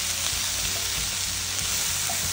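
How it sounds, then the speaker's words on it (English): Greens sizzling and frying in a hot pan while being stirred, a dense continuous crackle with soft scraping bumps underneath, steady and close. "And I'm just gonna stir these around."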